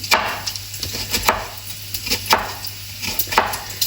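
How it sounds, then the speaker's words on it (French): An onion being chopped with a knife into roughly one-centimetre pieces on a board, a steady series of sharp, close cutting knocks over a low background hum. "je vais le couper en tronçons d'à peu près, allez, à peu près 1 centimètre"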